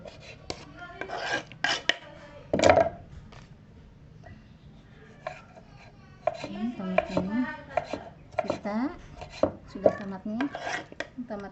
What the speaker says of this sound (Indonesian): tomatnya sudah iris